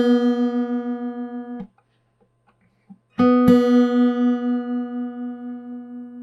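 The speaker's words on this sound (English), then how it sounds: "now we're tuning the B string with the 4th fret of the G string" Guitar B string sounded together with the G string at the fourth fret while being tuned by ear, sustained ringing tones with audible beating, a silent gap, then the pair struck again and ringing on, close and clear.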